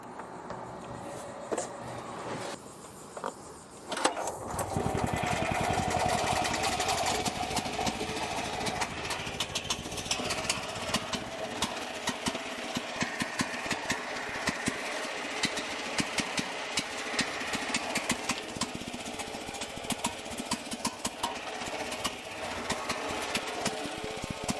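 A portable generator starts up and runs on propane, steady close engine drone with a rapid knocking rhythm that continues throughout after a brief start.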